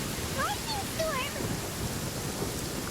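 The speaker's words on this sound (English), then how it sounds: "Lightning storm!" Thunderstorm in the video game Genshin Impact, a steady wash of rain and rumbling thunder filling the scene, with a brief voice-like chirp early on over the constant storm noise.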